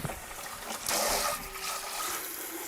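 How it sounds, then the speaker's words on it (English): Water runs into a container up to its max fill line, a short, fairly quiet stream that swells briefly midway. "water to the max fill line"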